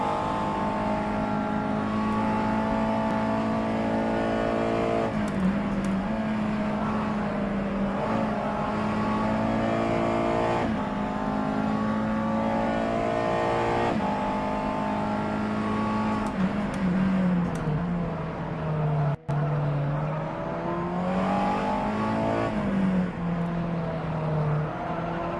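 A USF2000 single-seater race car engine at Zwartkops Raceway, heard from onboard, revs hard and climbs through the gears with repeated rising and falling pitch sweeps, loud and continuous throughout, with no talk.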